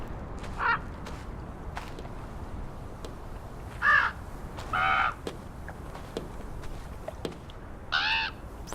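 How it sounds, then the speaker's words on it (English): A bird caws several times in the game Draugen, with scattered, fairly loud harsh calls spaced out over a steady outdoor ambient hiss, and faint clicks in between. "What are you doing, bird?"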